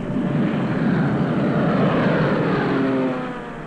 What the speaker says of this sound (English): Day after day, the Allied reconnaissance planes scoured the European continent.